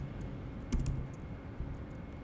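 Quick bursts of computer keyboard typing while Python code is written, faint clicks with a denser cluster of keystrokes near the middle over a quiet room hum.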